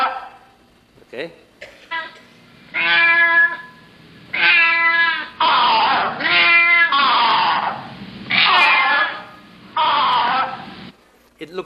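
A string of cat-like meows squeaked out with two cups, mimicking a male and a female cat, about eight wavering cries in quick succession, loud and near, alone.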